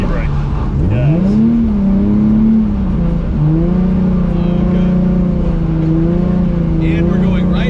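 A car pulls away under throttle after a clutch, e-brake and gas sequence, with a steady engine drone that rises in pitch several times as it accelerates, loud and close throughout.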